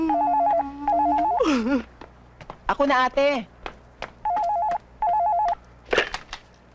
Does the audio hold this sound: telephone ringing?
yes